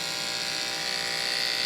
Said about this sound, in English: I'm going to get a different shaver.